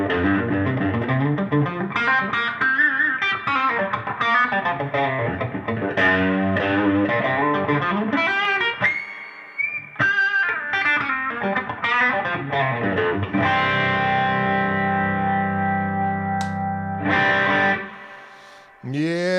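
Electric guitar with a matte-finish Closet Classic body played through effects, ringing chords and sustained distorted notes with chorus shimmer, loud and up close, alone without talk.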